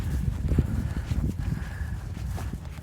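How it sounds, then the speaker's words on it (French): Horses in stable boxes at an equestrian property, hooves clip-clopping in irregular, moderately close steps with occasional thuds and faint background murmur. "Regarde tous les chevaux, les box à chevaux."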